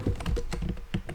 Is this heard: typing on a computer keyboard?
yes